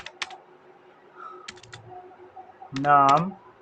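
A computer keyboard is tapped in a few sparse, quiet clicks while an HTML file is being written, followed by a voice speaking.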